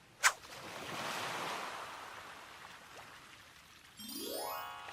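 A river splits open as a sound effect in a Korean folktale audiobook: a sharp bright click, then a swelling rush of water that slowly fades, followed by a rising, tinkling magical chime.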